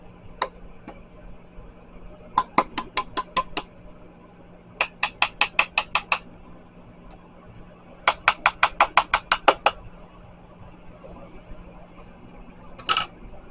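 Scraping leftover pressed powder from a makeup pan, heard as rapid clusters of sharp tapping clicks in short bursts separated by pauses, close and fairly crisp.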